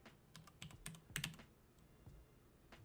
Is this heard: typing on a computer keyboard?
yes